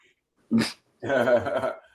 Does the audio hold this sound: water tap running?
no